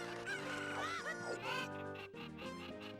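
A cucco, the chicken of the video game Zelda: Ocarina of Time, gives squawky clucks and warbling calls over steady, loud game music.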